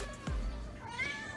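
Lily the house cat gives a short, close meow in a kitchen, a quick rising cry over low background noise, with no talk.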